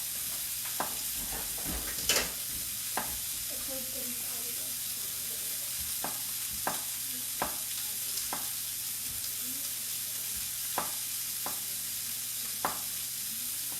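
Sirloin steak searing in a pan gives a steady bright sizzle throughout, broken by scattered short clinks and scrapes from handling in the pan.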